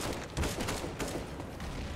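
Pistols fire in rapid overlapping bursts during a Counter-Strike: Global Offensive match, a dense crackle of shots lasting about two seconds at moderate volume.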